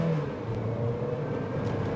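A Haval Jolion 1.5T turbo car accelerates at full throttle, its engine rising in a strained, continuous drone heard from inside the cabin.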